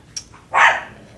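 Dogs bark at a wreath rattling on a front door in the wind: one faint yip, then a single sharp, close bark, with quiet room sound around it.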